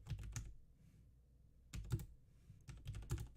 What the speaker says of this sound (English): Sorry, I'm typing.